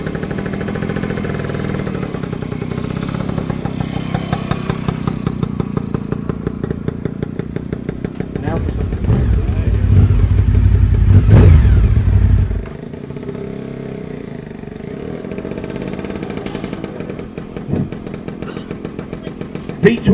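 Classic Honda V-twin motorcycle engine running loud and close at a motorcycle show, a rough throbbing idle that swells into a heavier rev before settling back to a steady beat, with voices faintly under it.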